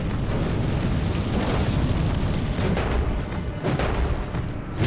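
A fire spell explodes in Elden Ring, producing a continuous, loud roaring blast that rumbles and crackles steadily for several seconds with deep booming bursts.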